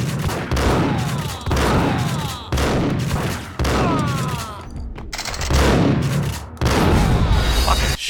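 Rapid bursts of video game gunfire, including shotguns, boom repeatedly through the whole stretch, loud and dense with brief pauses between volleys.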